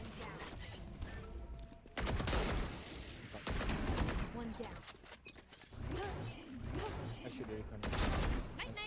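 Bursts of gunfire in the online shooter game Valorant, clusters of rapid shots and impacts in short volleys with brief lulls between them, dense and loud against game ambience.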